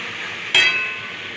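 Soya chunks and potatoes cooking in spice masala get a sudden scrape and stir partway through, over a steady frying hiss that continues around it.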